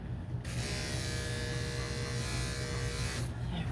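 An electric shaver buzzes steadily at close range as it clips a cat's matted fur, running continuously for about three seconds with a low hum beneath and no voices.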